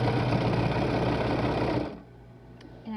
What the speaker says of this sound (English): and I have sewn that seam through